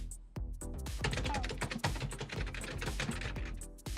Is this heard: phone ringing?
no